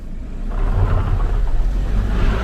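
A vehicle on highway tires rolls over rocky four-wheeler trails in Warner Valley near St George, Utah, giving a loud steady low rumble of engine and tire noise with no talking.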